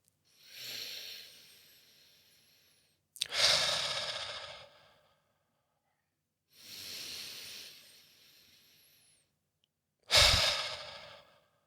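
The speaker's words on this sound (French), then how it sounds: "Exactement comme je suis en train de le faire, je respire" A person breathes slowly and deliberately to let go of pressure: four long, close airy breaths alternating inhale and exhale, each followed by a pause of silence.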